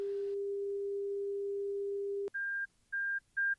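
Flight test data recording tones: a long steady low tone that cuts off with a click, then three short, evenly spaced, higher beeps, clean and electronic.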